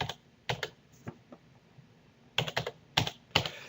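Someone types a phone number on a computer keyboard, with short clusters of close, crisp key clicks separated by a brief pause. The room is otherwise quiet.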